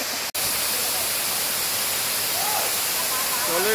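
Gandhahati waterfall near Mahendragiri in Odisha, a loud, close, continuous roar of forceful falling water that fills the whole scene after a brief gap at the start.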